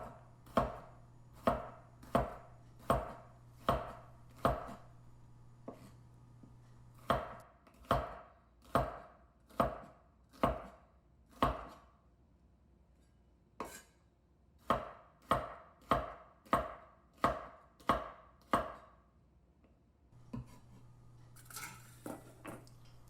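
A knife slices bitter melon into half-centimeter half-moon pieces, sometimes two or three at once. Crisp, close chopping strikes fall in a steady rhythm, with a short pause partway through and a soft rustle at the end.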